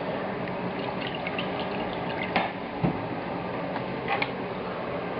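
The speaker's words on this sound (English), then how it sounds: "We're going to pass liquid through this." Broth trickling and splashing steadily through a kitchen sieve, a continuous wet pour with a few small clinks of the strainer.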